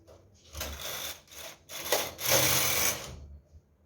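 A punchcard knitting machine works a Fair Isle pattern, its carriage making repeated rubbing, clattering sweeps in short bursts with brief pauses, up close and with no voices.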